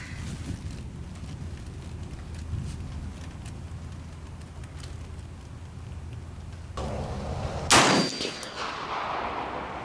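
A single gunshot from a Lencac National Match M1A rifle cracks sharply near the end at an outdoor range, loud and close, after a stretch of wind-blown background noise with no talking.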